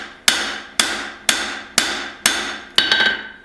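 Hammer blows forging an integral bolster knife ring out as six sharp metallic strikes at an even, unhurried pace, loud and close, each decaying briefly before the next.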